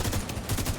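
Brief blind-fire from cover in the video game The Division 2: a quick string of muffled, rapid gunshots lasting under a second.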